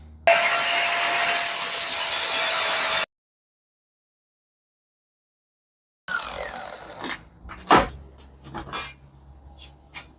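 Wood being sawn to cut pieces for a heavy-duty workshop workbench, with a loud burst of rough, continuous cutting, then silence, followed by scattered scraping, knocks and rubbing of wood being handled.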